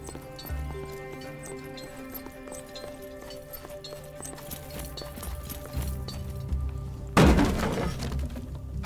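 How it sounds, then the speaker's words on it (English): A wooden workbench is smashed in the game Expeditions: Rome, a sudden loud splintering crash late in the clip that rings on briefly over a background of steady music and soft clopping. "Hey, why are you smashing the workbench?"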